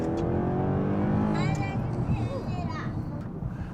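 A 2012-style Mercedes C63 AMG W204 sedan with every option pulls hard, its V8 roaring loud and close, rising in pitch, then fading as the car moves off.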